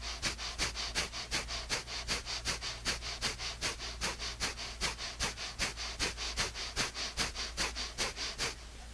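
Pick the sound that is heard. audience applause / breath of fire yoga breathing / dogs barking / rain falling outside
breath of fire yoga breathing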